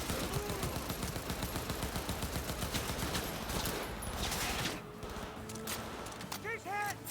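Rapid bursts of gunfire from the video game Cyberpunk 2077, dense and continuous firefights with layered weapon shots and crackling impacts, loud and close, thinning slightly near the end where electronic chirps appear.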